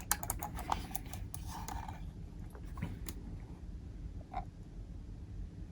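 Mouse buttons on an Amiga 500 two-button mouse being clicked, with a cluster of quick, close, light clicks at first, then a few scattered fainter clicks over a low background hum.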